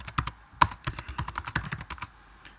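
Code is typed on a computer keyboard in Xcode, a C programming tutorial, as a fast, steady run of crisp key clicks with one sharper tap, close and alone with no voice.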